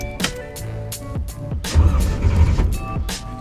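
A 1966 car engine cranks with a few sharp starter bursts, then catches into a rough, rumbling idle that builds slightly, heard close by with no talking over it.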